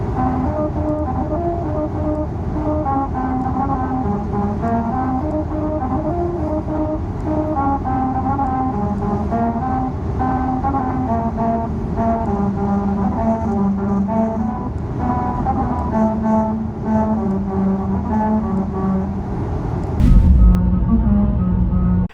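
A car drives over a musical road in Hungary, its tyres on the grooved surface producing a loud, sustained melodic tone that steps through a tune over a steady engine and road rumble, ending with a bump.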